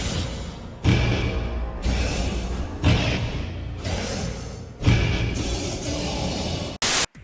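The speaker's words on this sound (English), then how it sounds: "Static!" Broadband static hiss in several loud bursts separated by abrupt cuts, each burst steady and harsh, ending with a short, very bright blast.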